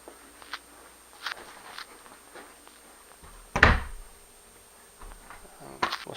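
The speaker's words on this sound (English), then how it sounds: "Door open." A door swings open indoors with a single clear thunk and rattle in the middle, surrounded by faint shuffling and small handling noises.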